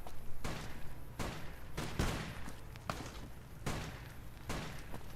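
Pistol shots ring out in Fallout New Vegas, a heavy solid-metal handgun firing single loud reports at irregular intervals, about eight sharp cracks over a steady low game backdrop.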